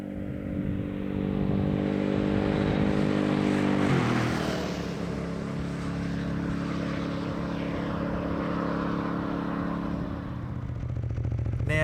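An adventure motorcycle cruises along a rural outback road in New South Wales, its engine droning steadily with a gear change partway through, continuous and close, with wind rush and no talk.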